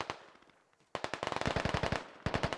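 Rapid bursts of automatic gunfire in a military video game, sharp shots in a dense rattling string after a brief lull, then another burst near the end; close and loud with no talk.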